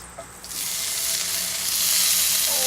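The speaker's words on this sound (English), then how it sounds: "I'm gonna throw in just a smidgen of bacon grease." A small amount of bacon grease sizzles and hisses steadily in a cast iron pan over a rocket stove, a dense, continuous crackle that grows slightly louder as it goes on.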